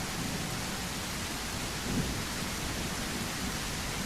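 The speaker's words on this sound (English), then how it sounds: "thunderstorms in the game are amazing" A thunderstorm in the video game Hiraeth, heard on a coastal road: steady, dense rain hiss with low thunder rumbling underneath and a slight swell near the middle, constant and fairly loud with no voices.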